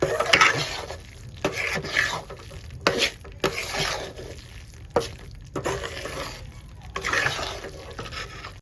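Sukhadi being stirred and cooked in a pan until it browns, with repeated scraping and stirring strokes against the pan in an irregular rhythm, close and moderately loud, with no talk.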